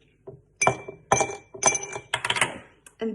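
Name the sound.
ice cubes clinking into a glass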